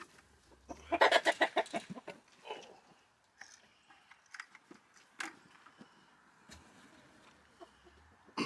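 Chickens cluck in a chicken run, with a quick burst of loud, rhythmic clucks near the start and then scattered, softer clucks and calls.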